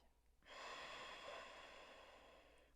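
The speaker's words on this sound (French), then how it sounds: "Expire." A long, steady breath exhaled through the nose during yoga breathing, close and soft, starting abruptly and hissing on for about two seconds before slowly easing off.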